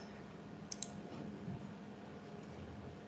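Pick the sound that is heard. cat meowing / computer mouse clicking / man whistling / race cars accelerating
computer mouse clicking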